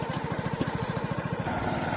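A small motorcycle engine putters in a fast, even, throbbing rhythm, close and steady, while riding along a rural road past herders' camps.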